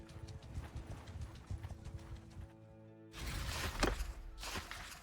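Horse hooves clip-clopping at a riding pace in Mount & Blade 2: Bannerlord, a steady rhythmic patter that briefly drops out and then returns louder and denser, with a snort or whinny in the mix.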